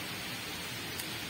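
Steady rain pours down outdoors in a continuous, dense hiss with no breaks, fairly loud and close, and no voices over it.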